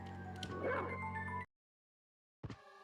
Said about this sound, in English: Thankfully, this dog can swim.